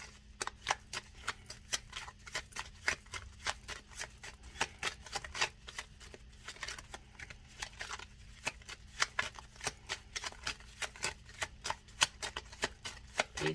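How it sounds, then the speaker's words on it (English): Tarot cards are shuffled and handled in a quiet room, a long run of crisp, rapid flicks and riffles in a steady rhythm, close and fairly soft with no talking. "let me pull the other cards"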